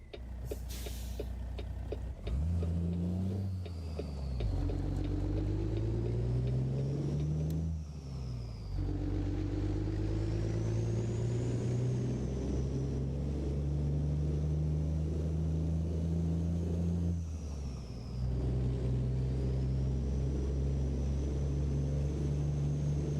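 A Freightliner FLD120 truck in American Truck Simulator pulls away and climbs through the gears, its deep engine drone rising in pitch with each shift and then settling into a steady cruise, loud and close, with no talking.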